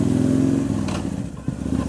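A big Kawasaki Vulcan VN2000 motorcycle engine rumbles smoothly at cruising speed, a loud, steady low drone that dips briefly then returns, heard up close while riding.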